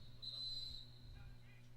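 A single referee's whistle blast, short and fairly distant, sounds at a boys' high school soccer match over low background hum.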